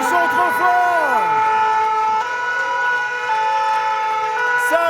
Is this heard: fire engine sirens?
yes